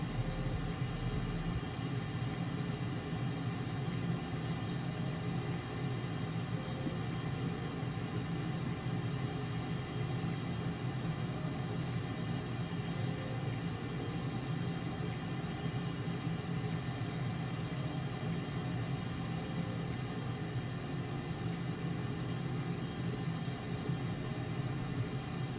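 Aircraft back-taxiing along a runway in Microsoft Flight Simulator, a constant steady engine hum with broadband hiss that stays unchanged for the whole stretch, with no talk.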